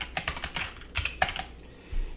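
Fingers type on a computer keyboard while writing a Markdown document: quick, irregular clicks and taps close by, a short pause near the end, then a final soft thump, with no talking.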